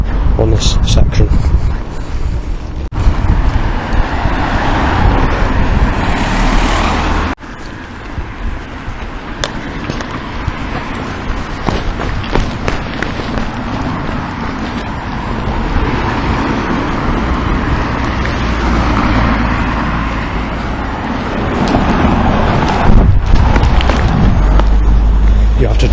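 Steady road traffic streams past on a busy stretch next to a closed-off road, loud and continuous with wind buffeting the microphone and someone talking over it throughout.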